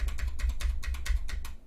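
Repeated crisp keystrokes on the space bar of a Deck Francium Pro 87 mechanical keyboard, about eight evenly spaced clacks, close and clear with no talking.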